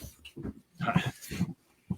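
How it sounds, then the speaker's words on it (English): Dog up close to a microphone, making a series of short snorting, grunting vocal bursts with brief pauses in between. "The dog walked up to my microphone."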